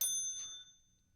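A small hand bell on a podcast host's desk gives a single bright ding that rings out and fades quickly in a quiet room.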